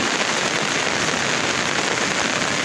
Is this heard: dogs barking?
no